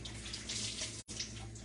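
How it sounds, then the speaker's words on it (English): A cleaning cloth rinsed under a running tap after wiping a stainless stovetop panel, with a steady close rush of water that cuts out for a brief instant and then resumes. "So I just rinsed that off a little bit just to get rid of the cleaning paste."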